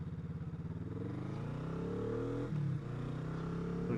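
A Kawasaki Vulcan S motorcycle on a short test ride after filter and radiator work, its engine rumbling close by at idle and then rising with a brief blip of throttle, with no talk.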